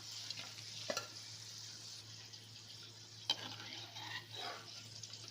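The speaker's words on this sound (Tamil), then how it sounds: "கொஞ்சம் எண்ணெயை காய வச்சுட்டு அதுக்கப்புறமா போட்டேன் அப்படின்னா நல்லா சூப்பராக நமக்கு பக்கோடா வெந்து வரும்" Mixed vegetable pakoda frying in hot oil, a soft steady sizzle with a couple of sharp spatter pops and light stirring scrapes, under a constant low hum.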